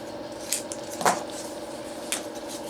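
Scissors snip through pieces of cardboard in a few separate crisp cuts, each a short dry crunch with pauses between, close and fairly clear over a quiet room.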